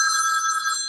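A telephone bell ringing with a bright, steady metallic trill, loud and close, heard on its own without voices.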